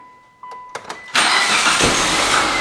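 A Mitsubishi Lancer that has sat for years in a storage unit, its fuel five years old, gives a few short cranking clicks and then catches, settling into a loud, steady run close by.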